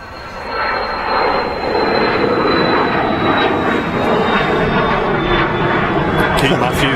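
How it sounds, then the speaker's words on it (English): A business jet climbs out on takeoff from Manchester Airport, a loud, steady engine roar with a thin high whine that holds for several seconds while a voice talks over it. "Wow, that biz jet's up quick."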